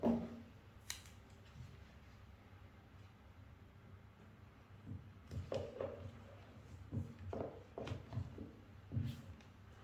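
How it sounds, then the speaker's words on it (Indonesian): Scissors snip adhesive tape at close range during a school science practical on building a parallel battery circuit, giving a scattering of sharp clicks and cuts, loudest near the end, against a quiet room. "kita bisa ambil selotip, lalu kita potong sedikit dengan tujuan untuk merekatkan kabel tersebut pada baterai"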